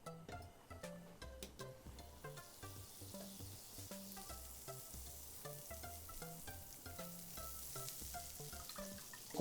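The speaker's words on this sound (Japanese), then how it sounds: "火をつけます。 バターを溶かします。" Butter melts in a frying pan for a pan-made carbonara, sizzling faintly and unevenly with light stirring taps, under quiet background music.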